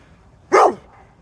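A dog gives a single sharp, loud bark close by, standing alone over quiet background noise.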